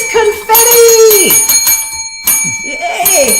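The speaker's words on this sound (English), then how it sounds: "He gets the bell!" A bell rings loud and close for a contest winner's announcement, with bright sustained ringing tones overlapping excited voices.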